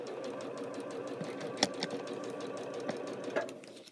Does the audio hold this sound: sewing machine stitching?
yes